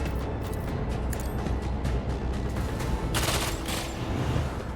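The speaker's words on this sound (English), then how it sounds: "I'm gonna go here and try and shoot this guy and that guy" Gunfire in the video game Rogue Trader comes as rapid volleys of sharp shots over a dense background, with a louder cluster of bursts near the end.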